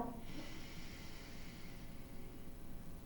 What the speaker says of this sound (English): you're going to close off the other nostril and inhale